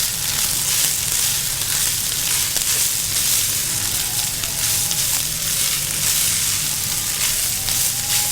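Rice stir-fried with hot sauce and soy sauce sizzles steadily and loudly in a pan, with faint scraping of stirring throughout and no voices.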